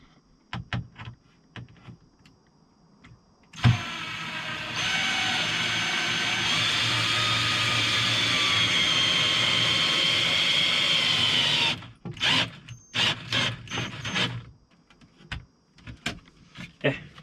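A power screwdriver drives a screw during a G-Class conversion build, whirring steadily for about eight seconds, framed by scattered clicks and knocks of handling before and after.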